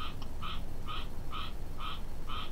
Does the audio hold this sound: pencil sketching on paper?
no